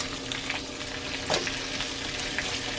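Bacon sizzles steadily in a pan, a continuous crackling hiss with a brief scrape of silicone tongs partway through, no talking.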